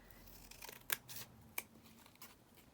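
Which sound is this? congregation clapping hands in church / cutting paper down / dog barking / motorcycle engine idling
cutting paper down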